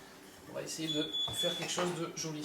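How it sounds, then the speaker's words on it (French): An oven chimes a single steady electronic beep of under a second as it reaches preheat temperature during bread-roll baking, sounding beneath continuous French speech in a kitchen. "ce que vous entendez, c'est le four qui est arrivé à température"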